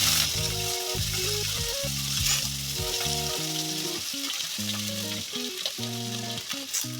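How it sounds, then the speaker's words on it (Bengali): Potato and carrot pieces sizzle loudly in spiced oil in a pan, a constant close crackle and fizz, while music plays underneath throughout. "আলু আর গাজরটাকে দিয়ে আবার একটু নাড়াচাড়া করে নেব"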